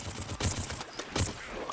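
Rapid-fire weapon shots from the Plants vs. Zombies Garden Warfare game come in short bursts of quick cracks, close and fairly loud, with no talking.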